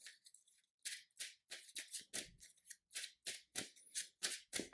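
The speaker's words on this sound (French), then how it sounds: "Je brasse mon deck." Cards riffled and shuffled in a Marvel Champions deck, a rapid series of crisp papery bursts in quick rhythm, close and clear with no voices.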